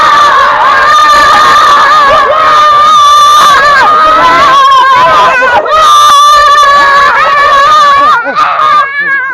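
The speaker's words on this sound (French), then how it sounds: "On peut crier devant la caméra. Ouais, on crie tous." A group of children in Bagneux shouting together loudly and close up, a sustained chorus of high cheering voices with screams rising and falling for several seconds.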